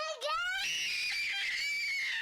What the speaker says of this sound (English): Lots of screaming.